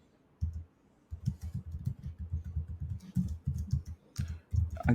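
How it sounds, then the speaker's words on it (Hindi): A password typed on a computer keyboard, rapid runs of close, crisp key clicks with short pauses between bursts, no voices over it. "again we have to type the password कि वो मैच हो जाए"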